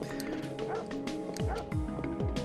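Dogs in the video game Parasite Eve bark and whimper, with repeated yips and whines and a couple of sliding howl-like cries over steady game background sound, at moderate distance and fairly quiet.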